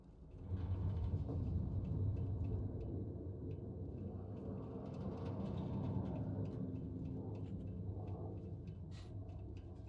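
An old engine in Starfield gives off a deep, steady rumble that holds at an even loudness for several seconds, close and continuous, with faint clanks and ticks on top.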